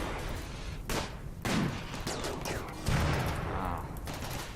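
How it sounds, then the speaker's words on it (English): Gunfire in RimWorld during a raid, with dense crackling bursts of shots in a continuous barrage and heavier volleys near one and three seconds, and no voice over it. "See, they're trying to shoot you now."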